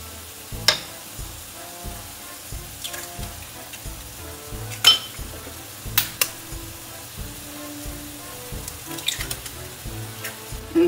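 Tomato sauce for eggs poached in tomato sauce simmers and sizzles steadily in a pan, with scattered clinks and taps of utensils on the pan rising over the bubbling.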